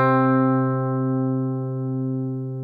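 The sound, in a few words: stringed instrument playing the note C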